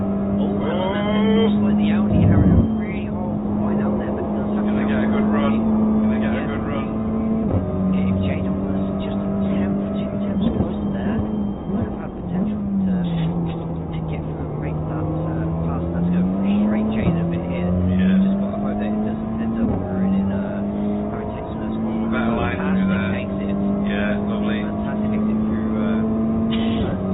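Audi and Honda touring cars race at Sonoma, steady high engine drone with pitch sweeping as they brake and accelerate through corners, heard under continuous commentary.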